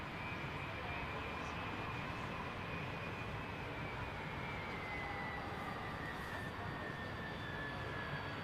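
Boeing 767 jet taking off, a steady broad engine roar with a rising whine, sustained and fairly distant throughout, with some faint voices in the background.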